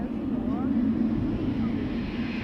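An Air Europa Boeing 787-9 Dreamliner departs Amsterdam Schiphol Airport, its engines producing a steady, broad roar that holds at an even level throughout.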